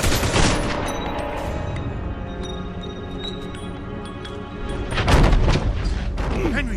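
Gunfire in the Mafia II video game: a loud burst of shots at the start, then a second heavy volley a few seconds later, set against a sustained noisy background.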